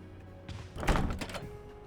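A locked door in the Resident Evil 1 Remake rattles with a dull, heavy thunk and a brief clatter of the handle, close and solid over a faint low background hum.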